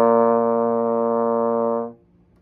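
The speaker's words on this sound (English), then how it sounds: "It's called a B flat, and it sounds like this." A trombone sounds one steady B flat, a clear sustained brass tone that holds evenly for about two seconds and then stops cleanly, alone with no talking.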